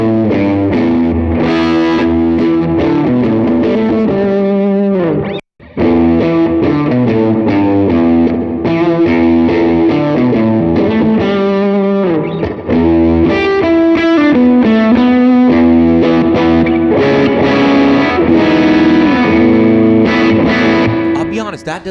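An electric guitar played through a digital amp into an API mic preamp rings out in dense, slightly distorted strummed chords and riffs, loud and continuous with one brief pause near the start.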